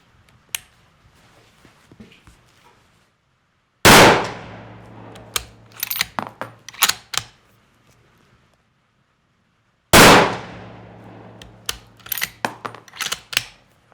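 Two loud gunshots at a shooting drill with target dots, each a sharp close crack with a ringing tail, several seconds apart, each followed by a scatter of metallic clinks like falling casings.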